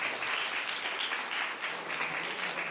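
Sustained applause from a congregation at a First Communion mass in St. Anthony's church, a steady dense patter of many hands clapping throughout with no one speaking.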